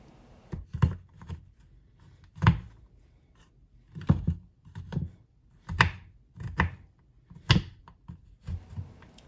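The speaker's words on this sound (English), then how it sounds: "You're going to take a knife and sliver it into small pieces as seen here" Knife chopping vegan chocolate into small pieces on a board, a series of sharp, close, distinct cuts coming in uneven bursts with short pauses in between.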